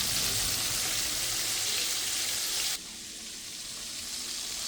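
Chicken wings frying in hot oil for a crispy homemade recipe, a steady dense sizzle that drops sharply in level partway through and continues more softly, with no talking.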